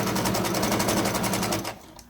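A sewing machine runs fast, stitching a straight seam through fabric, with a steady rapid needle rhythm that stops abruptly near the end, leaving near silence.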